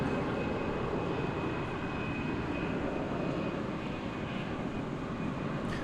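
An airplane at DFW International Airport in Texas, a steady, broad engine roar that stays loud and constant throughout, close by with no voices over it.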